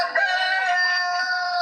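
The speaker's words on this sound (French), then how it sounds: "J'appelle les enfants pour amener les poules et les coqs." A rooster crows once in a long, loud, drawn-out call, close by and clear.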